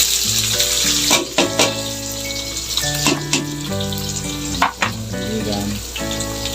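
Onions fry and sizzle in a hot pan, a steady close hiss with scattered pops and clinks of stirring running throughout, no talking.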